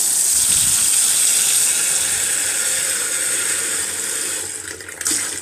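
Cold water runs steadily from a tap into a container, a loud, even hissing gush that tapers slightly near the end before a brief clunk.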